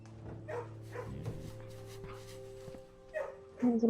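Puppy in the video game Blue Prince, a few short yips and barks rising near the end, louder and close, over a steady game music drone with brief speech earlier.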